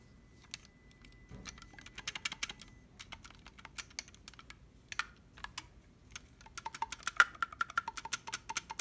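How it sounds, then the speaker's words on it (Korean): Light, rapid clacking of the keys of a Buffet E11 clarinet under repair, irregular clusters of sharp clicks growing busier toward the end, close and fairly quiet. "이런 키 소음들도 많이 나죠"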